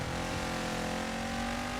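An Unlimited-class race car engine in Dirt 5 on PS5 drones at a steady, loud, held pitch throughout, with no voices over it.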